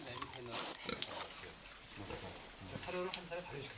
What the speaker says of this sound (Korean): 작년 6월부터 자연농업으로 키워지고 있는 돼지가 바로 주인공입니다